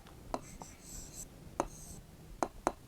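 Pen or pencil writing the Urdu word takli by hand, a few short scratchy strokes and taps with soft rubbing between them, close and quiet.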